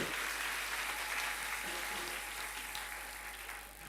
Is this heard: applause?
yes